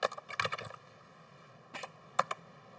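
Computer keyboard typing in Microsoft Word: a quick burst of clustered key clicks, a pause, then a few more sharp, isolated taps, close and fairly quiet.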